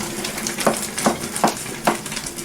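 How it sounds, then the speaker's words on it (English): Wooden spoon stirring a pot of boiling shredded bread, four soft rhythmic scraping strokes over a bubbling, sizzling background, close by and with no talking. "Now we're hitting it with the wooden spoon."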